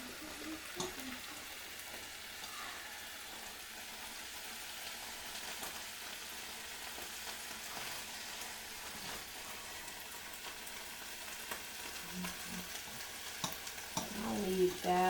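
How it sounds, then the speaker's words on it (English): Spinach sautéing in olive oil with olives, a steady close sizzle and crackle in the pan with occasional stirring scrapes, growing a bit busier near the end. "you're sauteing it to get the flavor of the olives and the oil into it"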